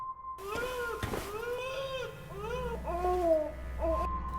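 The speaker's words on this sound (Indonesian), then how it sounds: "dia mendengar tangisan bayi dari dalam salah satu loker" An infant wails from inside a locker in a Backrooms horror game, the cry coming in short, rising and falling sobs over a low, steady hum.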